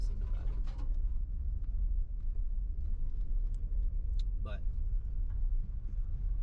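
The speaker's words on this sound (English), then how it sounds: "You have to drive this like pretty gnarly back road. This is it right now, just a dirt road." Car driving slowly along a rough dirt back road: steady low rumbling road and engine noise throughout, with a few bird calls and coos over it.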